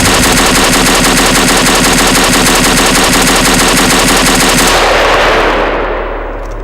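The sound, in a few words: DP-28 machine gun firing in Garry's Mod (video game)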